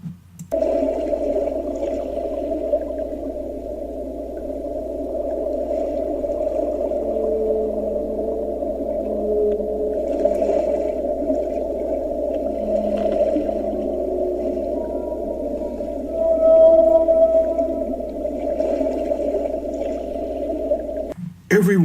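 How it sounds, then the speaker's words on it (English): Whale vocalizations: long, low, droning moans with slight wavering pitch, sustained loudly and almost without pause for about twenty seconds. "Just listen to how whales communicate"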